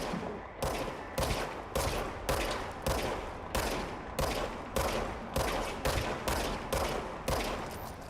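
Repeated bursts of gunfire from a weapon in the video game Control, about a dozen sharp shots in quick, fairly regular succession, loud and close, with no talk over them.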